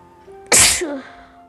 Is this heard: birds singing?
no